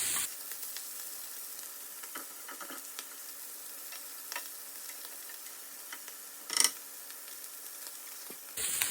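Deer hearts sizzle steadily in a frying pan, a bright close hiss with scattered pops and light ticking, plus one sharper clatter near the end, no voices.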